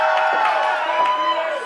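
Capacity crowd at an RVA Pro Wrestling sellout in Richmond roaring and cheering after a reversal, a loud sustained mass of voices with shrill whoops rising above it.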